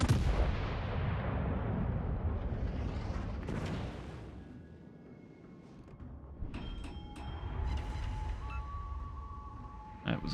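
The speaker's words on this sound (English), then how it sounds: "Shoot at the Bismarck here." Heavy naval guns boom in World of Warships: Legends as a ship fires on the Bismarck, a loud opening blast rolling into a long fading rumble, then metallic clanks and tonal mechanical whines as the turrets reset.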